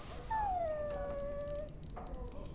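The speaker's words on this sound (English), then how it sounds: "Bloody dog." A dog in the video game Dragon Age: Origins lets out a single drawn-out whining howl that slides downward, followed by softer game ambience and small clicks.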